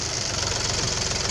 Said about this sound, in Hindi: ये ट्रैक्टर ड्राइवर बैठे हैं ट्रैक्टर पे, गन्ना का रस निकालने के लिए